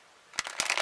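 A deck of tarot cards is shuffled by hand, opening in silence and then giving a few quick riffling bursts of papery flutter that grow denser and louder toward the end.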